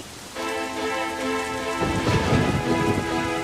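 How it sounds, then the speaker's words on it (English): Rumbling thunder rolls through steady rain during a storm, with a low surge building in the second half while rainfall hisses throughout, fairly close and moderately loud, alongside a tonal musical drone. "It's just a little thunder."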